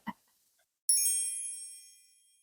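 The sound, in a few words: chimes sound effect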